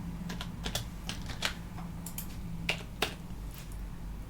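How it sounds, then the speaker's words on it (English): Rapid, uneven keystrokes on a computer keyboard as a password is entered, a close run of light clicks with a few sharper taps standing out over a low steady hum, no voices. "I still had to type in the password"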